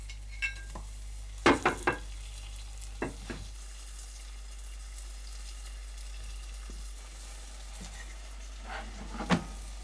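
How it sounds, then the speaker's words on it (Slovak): Brown sugar caramel with ginger and spices sizzles gently in a pot as a faint, steady hiss, broken by several sharp clatters of a utensil against the pot. "Do karamelu pridáme zázvor, koreniny a necháme chvíľu opekať."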